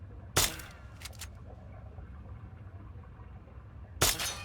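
Two sharp, snappy BB gun shots from the video game Fallout 3, one near the start and one at the end, with a brief clatter between them over a quiet background hum.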